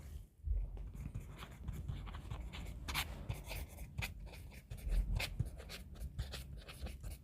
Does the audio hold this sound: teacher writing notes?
yes